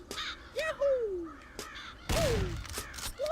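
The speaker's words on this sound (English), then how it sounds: "Fuck off, birds." Several loud, harsh crow caws from the video game Corpse Party, each call drawn out and separated by short pauses, set against a quiet game ambience without any voices.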